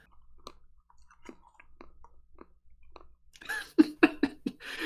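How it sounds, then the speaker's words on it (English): Soft wet chewing of frozen yogurt during a mukbang: faint sporadic clicks and squishy bites at first, then a louder, closer burst of smacking chews near the end. "we're just having a mukbang then as we listen to the soft chewing of frozen yogurt"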